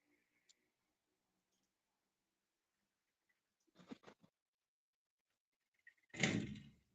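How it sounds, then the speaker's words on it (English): A patio door slides shut with a short rattling clatter, followed a couple of seconds later by a louder thud as it closes, in an otherwise quiet room with faint clicks. "Let me close this door to my patio"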